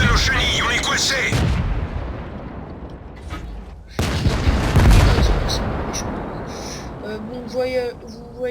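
Tank cannon shots in the online game World of Tanks: two heavy booming blasts a few seconds apart, each with a long rumbling decay, followed by softer mechanical clanks and a brief voice-like sound.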